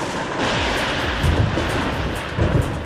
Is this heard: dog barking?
no